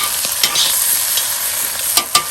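Green peppers stir-fry in olive oil in a Lodge wok over a Weber charcoal grill, a steady close sizzle broken by a few sharp stirring clinks and scrapes.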